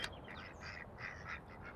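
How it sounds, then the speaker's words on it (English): Ducks by a pond quacking in short nasal bursts, several calls in loose succession, very faint and distant over a low background hum. "So there are some ducks"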